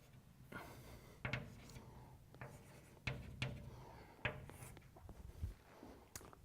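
Chalk writing out a mathematical conclusion on a board during a lecture, with quiet scratchy strokes and several distinct taps as letters are marked, set against a hushed room.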